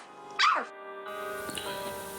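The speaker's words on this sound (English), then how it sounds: "I'm sure you know why the barking dog is in the background." A single sharp dog bark or yelp in a movie scene, heard over a quiet tonal background that carries on afterward.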